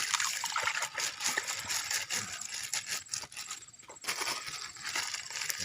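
One kilogram of fine salt is poured into water to mix a weed killer, giving a continuous grainy hiss and trickle with small scrapes and splashes, close and moderately quiet.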